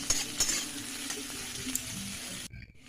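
A utensil stirs pasta with beans and chopped capsicum in a sizzling pan, a steady frying hiss under soft scraping and clinks, close, before cutting out abruptly near the end.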